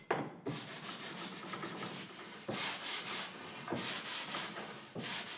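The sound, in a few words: sanding drilled wooden towel rack parts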